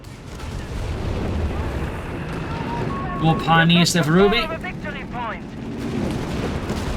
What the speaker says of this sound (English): We got whiz-bangs still whiz-banging